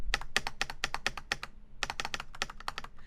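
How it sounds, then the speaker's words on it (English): Clacky, unlubed mechanical computer keyboard keys typed in quick bursts, crisp and close, with a short pause midway and no talk. "The space bar sounds too hollow, but I really like how the rest of the keys sound."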